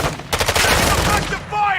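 Gunfire in Call of Duty MW2 DMZ: a rapid burst of automatic shots rattles loudly for about a second, followed by a brief ringing tail.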